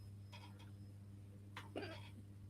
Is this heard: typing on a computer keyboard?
no